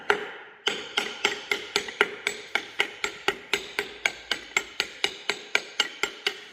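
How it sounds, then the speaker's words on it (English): A metal part on planting equipment being hammered back together: about twenty sharp, loud, close hammer blows at a steady rapid rhythm, each with a short ringing decay, following a brief quiet start. "We're going to pound this thing back together and see what we can get."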